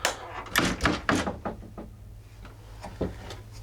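A cabinet door in a guest cabin aboard a 40 m sailing schooner yacht opens and closes with several close wooden knocks and thuds, loudest early and softer later, over a low steady hum.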